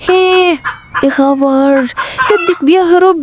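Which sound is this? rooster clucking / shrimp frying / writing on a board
rooster clucking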